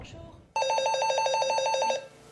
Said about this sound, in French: Dans ces 2 hôtels, le téléphone ne cesse de sonner